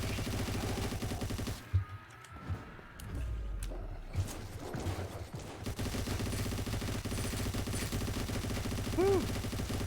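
Sustained automatic gunfire in the video game Sker Ritual, a dense rapid stream of shots with the trigger held down, loud and continuous with brief gaps, and a short vocal whoop near the end.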